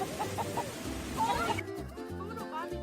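Chickens clucking near a food scrap bin, several short pitched clucks in a loose rhythm, fairly close, over background murmur.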